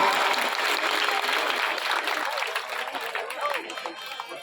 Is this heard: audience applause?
yes